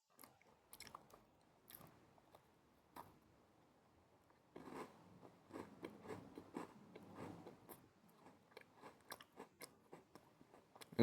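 Near, soft chewing of food with intermittent crunchy bites, quiet at first, then a denser run of wet, rhythmic mastication and a few sharper crunches.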